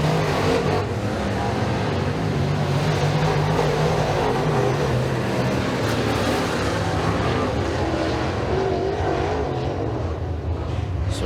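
Rush Late Model race cars roar around Eriez Speedway during a heat race, a dense, loud, continuous engine drone with cars revving and passing, no talk.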